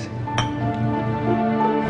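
Glasses clink together in a toast, a bright short chime near the start over a steady background hum, with no talk.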